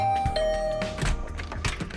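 A two-tone doorbell chime rings once at a dorm room door in a visual novel game, its clear tones fading over a low thud and background music.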